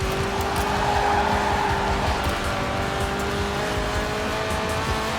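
A car drifting in Forza Horizon 4, its engine droning steadily with a sustained tyre squeal running continuously underneath, loud and close with no pauses.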